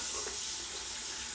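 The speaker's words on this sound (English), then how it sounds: "This tap is still not giving me hot water." A tap that gives no hot water runs into a sink with a steady, soft hiss of flowing water, quiet and alone.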